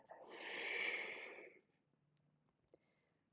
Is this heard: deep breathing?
yes